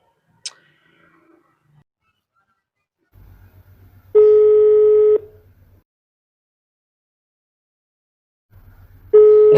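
Telephone call tones: a soft low buzzing pulse, then a loud steady beep about a second long, a pause, and the buzz and beep repeating, with a brief click at the start.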